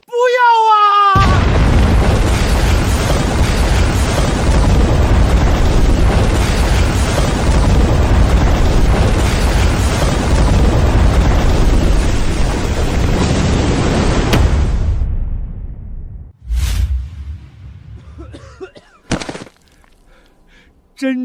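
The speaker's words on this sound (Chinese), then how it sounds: "老张，炸桥！" A bridge is blown up in a huge, sustained explosion that roars loud and broadband for about fourteen seconds, then breaks off into scattered rumbles and debris impacts; a voice cries out at the very start, just before the blast.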